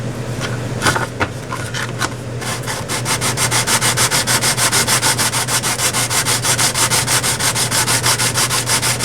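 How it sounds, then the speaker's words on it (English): Rapid rhythmic rubbing scrapes sand the edges of a model airplane, the scattered early strokes settling into a fast steady back-and-forth pattern, loud and close with no talk. "You sand these edges down"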